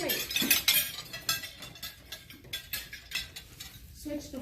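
A table knife set down on a dinner plate after cutting, giving a few light metallic clinks of cutlery against dishware at close range, with brief soft handling sounds in a quiet room.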